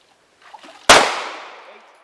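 A Glock 19 Gen 5 pistol fired underwater makes a single sharp, loud report with a long fading tail, after a faint shuffle just before.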